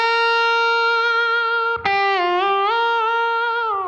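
Slide guitar on the B string around the 6th fret in B flat gives a loud, sustained, bright note that glides smoothly up and down in pitch, with one brief scrape partway through and no talking.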